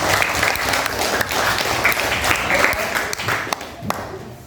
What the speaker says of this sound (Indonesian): Just give the big applause for your friend.